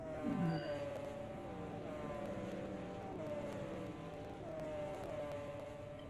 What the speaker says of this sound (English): There's no mistaking when that Benz go by. You can hear that V8 rumble.